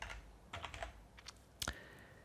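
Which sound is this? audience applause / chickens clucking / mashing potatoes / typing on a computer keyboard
typing on a computer keyboard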